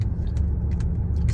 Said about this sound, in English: There's this car behind me, just all on my tail.